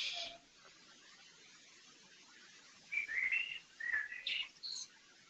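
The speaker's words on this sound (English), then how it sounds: "I cannot turn off the birds." Birds chirp and tweet in the background, with a high call at the start and then short clusters of bright, thin chirps toward the end, faint and distant over a quiet room with no talking.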